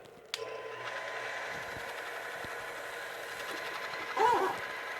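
A no-peen head spinner machine starts up with a sharp click, then spins with a steady mechanical hum and whir close by, and a brief louder squeal near the end.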